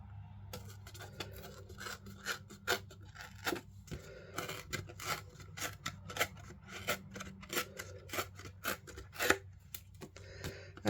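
Paper is torn by hand in a run of short, rapid ripping and rasping strokes, close and steady for several seconds, with a low hum underneath.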